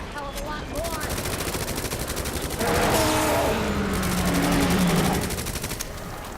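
Sustained rapid gunfire from a gun in the video game Resident Evil 2 rattles on for several seconds, loud and dense, layered over game music and tonal effects.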